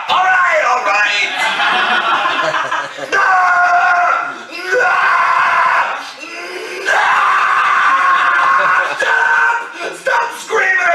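A person screams loudly and repeatedly in long, strained bursts with short breaks between them, close and dominant throughout, mixed with voiced, almost laughing tones.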